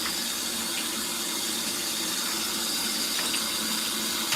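Hot water gushes steadily into an LG ThinQ MEGA washer drum during a Deep Wash cycle, a loud continuous close rush with no talking.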